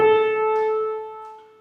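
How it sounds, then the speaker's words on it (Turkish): A single sustained instrumental note A rings clearly and steadily, then slowly fades, with no other sounds around it. "Bu la sesi"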